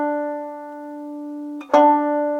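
A banjo's low D fourth string sounds a 12th-fret harmonic, a pure bell-like tone ringing steadily and alone, with a second pluck near the end renewing the sustained note.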